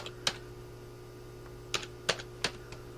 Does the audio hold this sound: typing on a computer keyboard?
yes